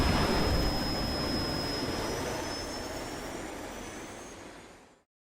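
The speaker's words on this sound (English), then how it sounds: "T. Gray and MK, you are now cleared for flight school takeoff" Airplane takeoff effect: a loud jet-engine roar with a thin high whine, slowly fading over several seconds before cutting off abruptly, with no voices.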